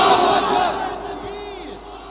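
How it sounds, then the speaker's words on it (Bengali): A large crowd at an Islamic sermon gathering roars a loud unison Takbir slogan in response to a call, the shout swelling at once and then fading out. "জোরে বলেন নারে তাকবীর, নারে তাকবীর"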